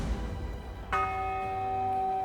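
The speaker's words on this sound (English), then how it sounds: "Go strike the bell." A single bell struck in the fantasy RPG Pathfinder: Wrath of the Righteous, a sharp clang just under a second in, then a long bright ringing tone that sustains steadily to the end over low background noise.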